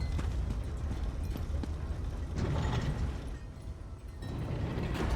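In the video game Greymoor, a heavy door mechanism grinds and creaks open with low rumbling and ratcheting clunks, fairly loud and continuous throughout.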